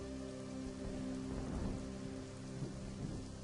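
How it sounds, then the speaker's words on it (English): Steady rain patters outside, a dense continuous hiss with faint low rumbles that could be distant thunder, with no voices. "I love listening to the sound of rain, even though it doesn't really help much when recording"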